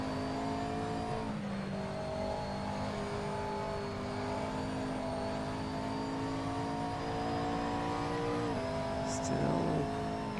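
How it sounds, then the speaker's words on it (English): A race car engine in a sim racing game drones steadily under throttle, its note stepping through gear changes twice, with a constant close-up whine and no pauses. "Still mashing the throttle a little too hard on exit."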